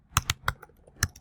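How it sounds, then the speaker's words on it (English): Typing on a MacBook Pro keyboard, a handful of quick separate key clicks in an uneven rhythm, close and fairly quiet, with no voices. "I'm sorry about my typos. It's just like my MacBook Pro keyboard is like so bad."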